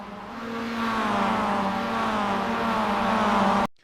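Mazda MX-5 Cup race cars at Mid-Ohio in iRacing scream past in a race replay, with a loud, steady engine note that climbs in pitch and then cuts off abruptly near the end.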